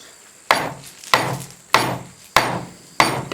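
A wooden chisel handle is pounded in with a block of wood held across the grain: five sharp, evenly spaced knocks about half a second apart, loud and close, each ringing briefly before the next.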